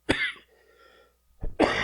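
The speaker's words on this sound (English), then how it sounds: "I've been fucking coughing all day." A person coughs hard twice, loud and close, the first burst followed by a quieter rasping tail and a brief pause before a second harsh cough near the end.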